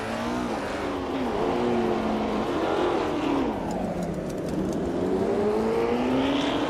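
A vintage Porsche 909 Bergspider races in a video game, its engine revving loud and close, pitch climbing and dipping through gear changes and corners as the car pushes from behind toward the leader.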